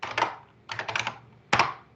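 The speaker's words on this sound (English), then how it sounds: "I hear keyboards clacking." Computer keyboards clack in three short bursts of rapid typing, fairly quiet and close, with brief pauses between them during a virtual auction.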